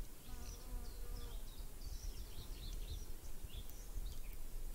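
Spring bird ambience in an AnyRPG Unity game, scattered high chirps and short calls over a steady, dense buzzing insect-like background hum that runs continuously throughout.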